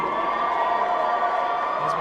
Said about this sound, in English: As we hear the Western crowd cheer for Okpali